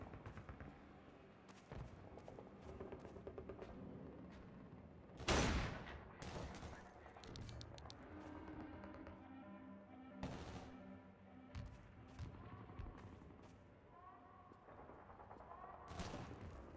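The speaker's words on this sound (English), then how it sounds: "I'm just gonna spam grenades" Grenades going off in a Call of Duty zombies match on the Terminus map, one sharp close blast standing out among repeated bursts of gunfire and rumbling impacts under a busy game soundtrack.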